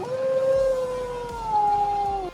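A wolf howls in one long, sustained wavering note that slides gently downward, close and loud with no talk over it, then cuts off abruptly.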